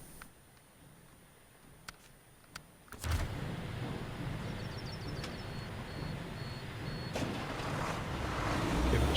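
An engine rumble from a truck nicknamed old Smokey pulling a trailer in the SnowRunner game rises abruptly after a few faint clicks and then grows steadily louder as the truck strains forward.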